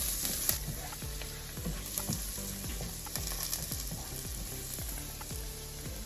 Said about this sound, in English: We're gonna put 2 tablespoons of butter, and then let's saute our chopped garlic